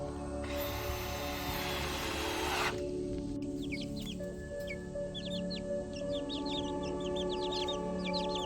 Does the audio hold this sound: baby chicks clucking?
yes